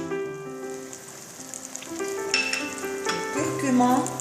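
Garlic and spices sizzle in a hot pan for Tunisian couscous, a steady crackling fry with clinks and scrapes of stirring, and a sustained tonal hum running underneath.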